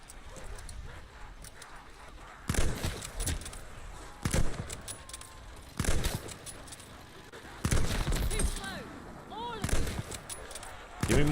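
Gunfire from a gun in Call of Duty Vanguard zombies on the Der Anfang Dark Aether map: loud, separate bursts of shots spaced a second or two apart over steady game noise.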